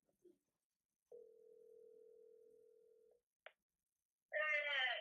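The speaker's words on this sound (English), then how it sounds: "I'm about to call my mom on AT&T" A phone call placed on AT&T: a short click, a long steady tone lasting about two seconds, a brief beep, then a warbling ringback tone starting near the end, all clean and close with no talk.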